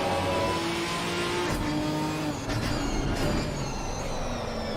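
A GT4 race car engine in a sim racing game at Snetterton drones steadily, with the pitch rising and falling as the car fights for traction, and a couple of brief gear-shift bursts along the way.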